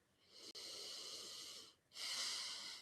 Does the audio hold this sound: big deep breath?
yes